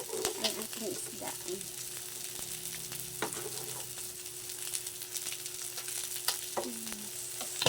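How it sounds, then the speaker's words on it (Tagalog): Fish frying in a pan, a steady close sizzle and crackle with small spits and pops throughout, no voices over it. "nagprito ako ng isda"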